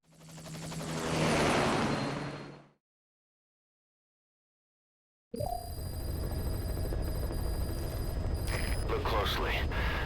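A Metal Gear Solid V helicopter fades in and out, then after a silence its rotor drone resumes loud and steady, with voices talking over the first part.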